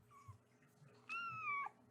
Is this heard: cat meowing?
yes